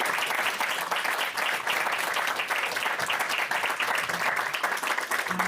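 Steady, full audience applause fills a lecture hall as two speakers are welcomed to a literary event, dense continuous clapping that holds at an even level throughout.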